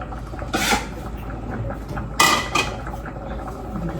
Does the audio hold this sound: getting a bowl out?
yes